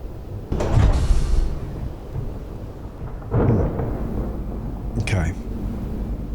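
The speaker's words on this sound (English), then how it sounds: "I'll have to close this door." A door in Space Engineers slides shut with a solid thud, followed by further heavy mechanical clunks against a low rumbling thunderstorm; a voice speaks briefly at the start.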